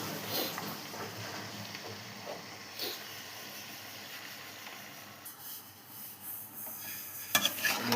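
Washed chicken, one kilo, tipped into a pan of frying ginger and garlic for chicken sukka, giving a steady broadband sizzle with stirring scrapes and a few sharp clatters near the end.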